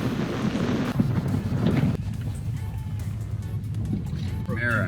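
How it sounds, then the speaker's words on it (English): Wind buffets a microphone at a boat launch before a spearfishing trip, a steady low rumble with gusty swells throughout, while a voice speaks faintly underneath. "The wind."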